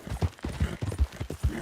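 A horse's hooves in Red Dead Online, moving at a slow, plodding pace: a steady run of dull, thudding clip-clops about five per second, close and fairly loud, with no talking.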